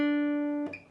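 A single guitar note picked once at the 7th fret of the G string rings clearly with steady overtones for most of a second, then is cut short by a soft muted scrape.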